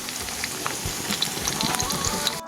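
Ginger and garlic sautéing in hot oil as the base for cooking pakol fish meat, a steady, close crackling sizzle with soft popping, unbroken until it cuts off at the end.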